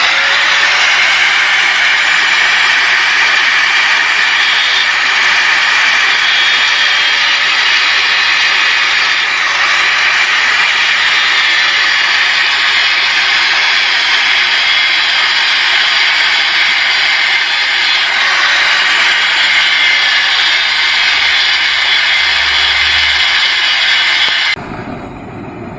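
A torch flame heating a car coil spring on a CR-V RD1 lowering job, a loud continuous roaring hiss that holds steady for most of the clip before cutting off abruptly near the end.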